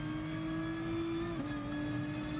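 Race car in Gran Turismo Sport on the Lago Maggiore GP circuit: a steady, high-pitched engine drone held at power, with a brief dip in pitch partway through as it continues at high revs.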